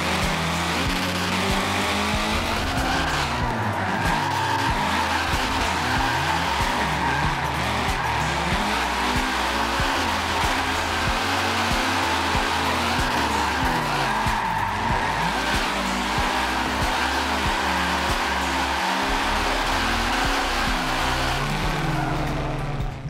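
Tires squeal and skid continuously as a car drifts around the Yas Marina circuit in Forza Motorsport, the engine droning and revving steadily beneath loud, sustained screeching throughout, with no talk.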